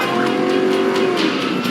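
A car revving hard as it pulls away in a tense roadside confrontation in Alaska, a steady loud engine roar with rising pitch and a faint tire squeal over about two seconds, no talk.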